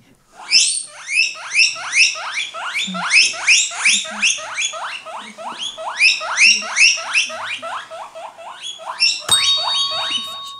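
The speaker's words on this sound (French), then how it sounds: "Mauvaise réponse, c'était le cochon d'Inde." A guinea pig squeaks in a quick rhythmic series of high, rising whistles, loud and close, with a brief pause before a final burst.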